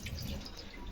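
Water runs steadily from a household tap in a home kitchen, too much poured while tea is being made, a continuous close splashing flow with no talking.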